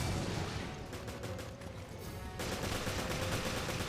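Heavy gunfire aimed at a video game boss, a dense continuous barrage of rapid shots blending into a loud, steady roar with brief pulsing bursts.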